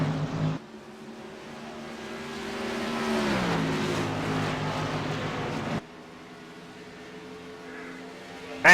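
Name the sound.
race cars racing on a track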